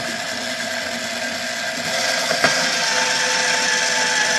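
A case trimmer cutting a 300 BLK brass case to length, a steady whirring tool hum with a small rise and a metallic scrape partway through.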